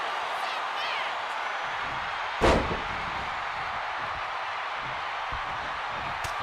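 A single forearm strike thuds in the WWE 2K26 wrestling video game, one short heavy slam standing out over a steady roar of arena crowd noise.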